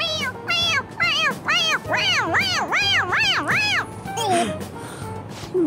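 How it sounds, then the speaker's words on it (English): A stuffed toy cat in Persona 5 Royal gives a rapid run of about eight rising-and-falling meows when its head is pressed, loud and close over a low game music bed. "It meows when you press on its head."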